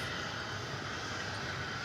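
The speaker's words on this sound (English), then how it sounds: "we can see planes coming in to land or taking off" Steady, broadband roar of airplanes landing or taking off at DFW Airport. A continuous, fairly distant engine rumble holds even for the whole span, with no talking.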